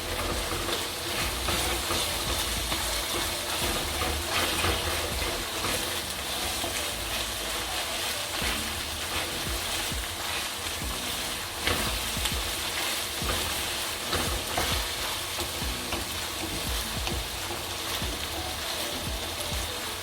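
Onions caramelizing in a discada give a steady, close, dense sizzle and crackle of frying, continuous throughout with occasional stirring scrapes and no talk.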